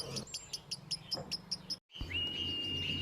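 Baby birds chirping in a cartoon jungle scene: a quick series of high, thin repeated cheeps, followed after a brief cutoff by a sustained high whistle-like tone over a background hum.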